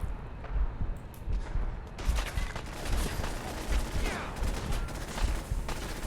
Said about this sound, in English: Unfortunate part is, where are they shooting me from?